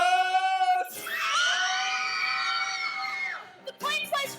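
Women in a young actors' stage production of James and the Giant Peach scream together in a long, high, sustained chorus, rising sharply, holding, then breaking off into brief shrieks.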